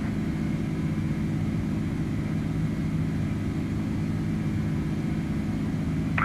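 An Airbus A310 in flight in Microsoft Flight Simulator 2020 gives a steady, loud engine drone and cabin rumble that continues without a break, with no talking.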